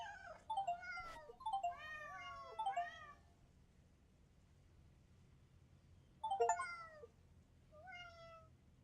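Cats meowing in a video game, several rising and falling meows in quick succession, then a pause and two more meows later, clear and fairly close over a low steady hum.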